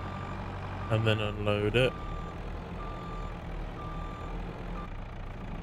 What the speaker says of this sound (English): So I'll reverse this trailer down the road